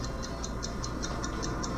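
A pocket watch ticks steadily and faintly, about five even ticks per second, alone against a soft background hiss.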